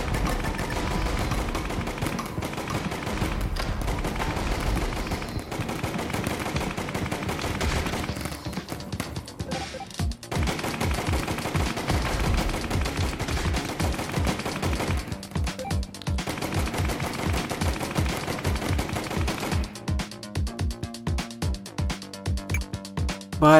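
Rapid, relentless gunfire from the Operation Hardcore video game, bursts of shots hammering almost continuously over a busy game soundtrack, with brief dips and a loud close presence throughout.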